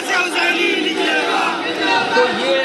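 Dense roar of a large protest crowd in Lucknow, many voices shouting and chanting together in a loud, continuous wall of sound with no pauses.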